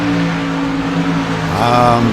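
Race cars battle closely on a track, their engines droning and whining at steady high revs, with a second car's pitch climbing near the end.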